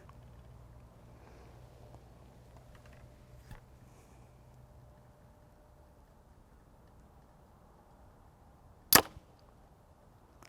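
One crisp, loud crack of an arrow loosed from a Hoyt V3 compound bow stands out against faint background hum after a long stretch of near silence.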